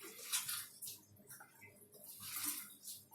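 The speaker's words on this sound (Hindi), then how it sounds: "अब इसमें धीरे धीरे करके मैं पानी मिलाऊंगी" Water slowly trickled into a gram flour pakora batter in a kitchen, soft intermittent splashy pours coming in several faint bursts, close by and without speech.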